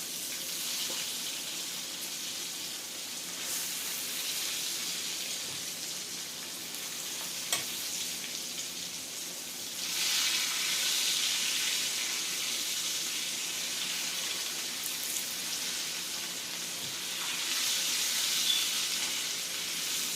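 Fish nuggets pan frying in hot oil for a crispy fish fry, a continuous close sizzle that swells louder at moments as pieces are turned, with faint clinks and no talking.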